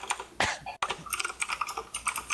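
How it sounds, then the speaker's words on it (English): Quick, uneven bursts of clicking keystrokes on a computer keyboard, fairly quiet and close, with a brief pause partway through. "God damn it, the typing, Jesus."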